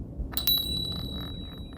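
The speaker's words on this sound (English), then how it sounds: "As out of nowhere, a bell rings" A bell rings out suddenly in a tabletop role-playing session, a couple of bright metallic strikes leaving a thin sustained ring over a low background hum.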